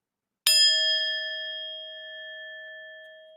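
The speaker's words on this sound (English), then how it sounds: "Already calm with the little data gong" A small data gong sounds a single bright ding that rings on with a long, slowly fading tone, clear and alone.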